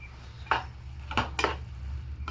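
A few clinks and scrapes of a utensil mixing instant noodles with soya, tomato and chilli sauces in a pan, three short distinct strokes over a low steady hum.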